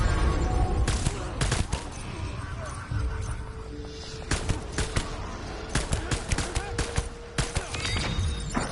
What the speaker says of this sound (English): I'm gonna shoot them from here.